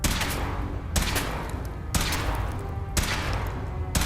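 Repeated heavy weapon blasts from power-armor testing in Fallout 4, four loud broad bursts roughly a second apart, each trailing off into a rumbling decay, with no talking over them.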